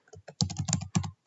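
Quick typing on a computer keyboard: a burst of about a dozen close, crisp key clicks in uneven clusters, with no talking.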